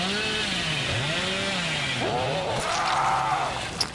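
In the video game Dead by Daylight, a chainsaw revs loudly and steadily, its pitch swooping up and down in repeated rising and falling sweeps with no gaps.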